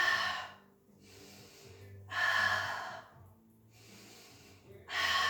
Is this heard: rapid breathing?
yes